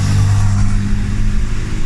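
A car driving through the streets of Medellín, its engine humming steadily and loudly up close with a low, continuous rumble for the whole stretch, no voices over it.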